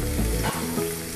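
Chopped tomato drops into onions frying in a pan, giving a loud burst of sizzling that eases into a steadier, softer crackle, close up.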